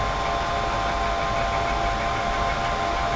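A WDS 800 rework station runs its weld profile, heating a chip with a loud, steady blast of hot air, a constant fan-driven whoosh with no pauses.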